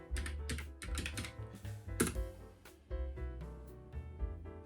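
Rapid keystrokes on a computer keyboard as a search is typed, close and crisp, with irregular clusters of taps and brief pauses between bursts.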